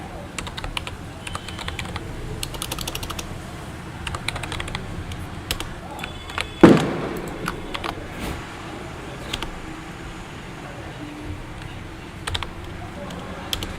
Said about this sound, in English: We'll type the password.